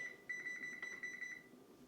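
A kitchen timer being set, sounding a steady high electronic tone with quick repeated beeps over about a second, faint and close in a quiet kitchen.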